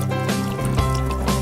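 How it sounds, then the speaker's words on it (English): Water sprinkled by hand over plants, a steady close spatter and trickle that runs throughout with small splashy surges, no voices. "So we do the sprinkling. A little bit of amount of water is enough."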